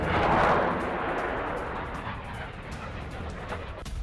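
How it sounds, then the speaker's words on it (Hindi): Naval missiles fired by the Yemeni army produce a loud, broad roaring rush that swells at first and then holds as a sustained rumbling hiss, heard from a distance. "यमन की सेना ने मिसाइल दागी है। 6 नेवल मिसाइल दागी गई है"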